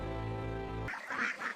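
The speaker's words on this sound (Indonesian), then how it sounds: "Nenek moyang kita di Asia telah lama melepaskan bebek ke sawah padi." Ducks in a rice paddy, with a harsh sustained tonal call under a steady drone followed by a few quick nasal quacks, fairly faint and close.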